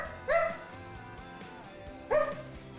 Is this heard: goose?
no